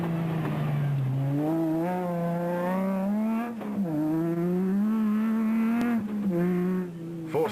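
Toyota 1000 rally car driven sideways at speed by a reigning national rally champion, engine revving hard and loud with rising and falling pitch through gear changes, close and continuous with no talk.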